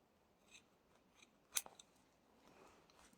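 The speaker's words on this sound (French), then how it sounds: "je vais donc tout couper." Scissors snipping fabric for a Sunbonnet keychain, a few quiet, sparse cuts with one sharper snip near the middle, faint and close against a soft background, no voices.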